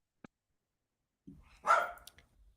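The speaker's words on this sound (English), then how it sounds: "Sorry, my dog's barking." A pet dog barking indoors, a faint single yip followed by a louder, clear bark burst and a trailing softer sound, heard alone against near silence.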